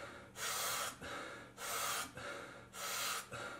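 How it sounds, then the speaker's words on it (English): Three forceful, rapid inhalations during a breath work exercise, each a loud breathy rush lasting about half a second with short gaps between, close and alone without talk. "We're going to be going for about 30 seconds of just rapid inhalations and then letting the breath go."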